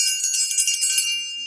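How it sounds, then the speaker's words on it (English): A dinner bell rings brightly with a quick run of metallic strikes, loud and close, then fades into a short decaying ring. "they want to hit the dinner bell"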